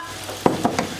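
Browned turkey pieces in olive oil being stirred in a frying pan, with a soft steady sizzle and a few distinct scraping strokes of the utensil, close and fairly quiet.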